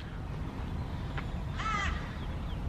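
At London Zoo, a single harsh caw from a bird cuts clearly through a steady outdoor murmur, preceded by a faint brief call.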